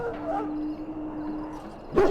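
A wounded dog whines and whimpers softly in the Dragon Age Origins video game, a thin drawn-out plaintive cry ending in a short yelp, with game ambience underneath.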